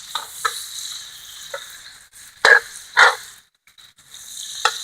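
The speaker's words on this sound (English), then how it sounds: "Time to start caramelizing all these peppers with this crispy bacon to make an awesome burger topping" Peppers and crispy bacon sizzle as they caramelize in a pan for a burger topping, a bright steady frying hiss broken by a few louder stirring scrapes and clatters, close and clear with no voices.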